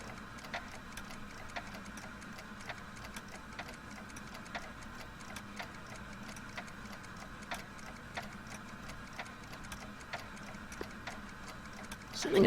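A clock ticks in the video game Back to the Future, with regular, evenly spaced ticks that stay faint and steady over a low mechanical hum and no talking.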